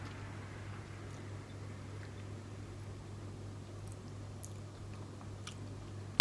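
Soft chewing of aloe vera yogurt close to the mouth, faint wet smacks and small bites scattered over a low steady background hum, with no voices.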